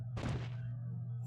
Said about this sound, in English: Thud.